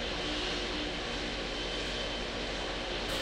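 Engines of an Airbus A380 in World of Airports give a loud, unbroken broadband roar with a steady whine, constant throughout and with no voices.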